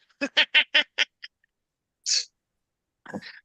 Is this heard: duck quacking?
yes